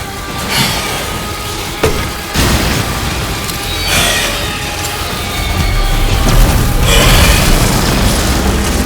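Heavy booming blasts from an infinite grenade launcher in Resident Evil Village roll out one after another, loud and close, over a constant rumbling game soundtrack.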